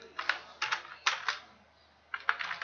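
Typing on a computer keyboard while filling in an Excel sheet: quick clusters of close, crisp key taps, a short quiet gap, then another burst of keystrokes.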